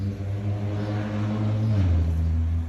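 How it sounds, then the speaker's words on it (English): A car engine drones steadily nearby, its low harmonic hum dropping in pitch partway through as it passes, in a backyard garden setting with no talking. "Vroom, vroom. There's a car."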